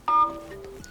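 Dialer keypad tones on an Allview X4 Soul Style phone, a short sharp beep followed by a fainter tone, close and alone.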